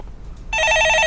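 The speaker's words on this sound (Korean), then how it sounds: "네, 전화 받아보겠습니다" A telephone starts ringing halfway through with a loud, steady electronic bell tone, alone and close, following a brief stretch of quiet room noise.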